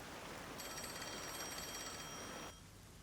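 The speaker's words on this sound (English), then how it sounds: "Oh, the phone. It's a call from the WDO." A telephone rings in the Master Detectives Archive Rain Code video game, a steady electronic trill lasting about two seconds over soft rainy background noise, with no voices.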